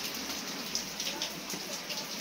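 Steady rain falling outdoors, a continuous soft hiss with scattered drops, moderately quiet and unbroken.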